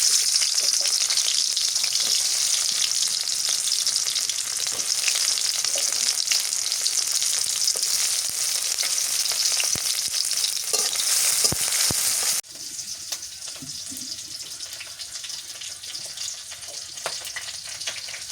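Mustard oil in a cooking pan, used for a shrimp, cauliflower and jackfruit curry, gives a loud, continuous, hissing sizzle close by. It drops abruptly to a softer, steadier fry partway through.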